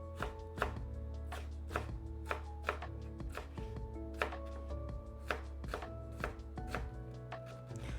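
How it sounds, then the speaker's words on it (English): Knife chopping vegetables for an aloo beans curry on a cutting board, a steady series of sharp, close taps spread evenly across the stretch with no talking. "we just chop it up all the way through"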